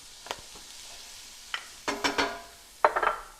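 Onions hit hot olive oil in a pan and sizzle in a few bursts that come and go as they are stirred, close up and fairly quiet, with no talking.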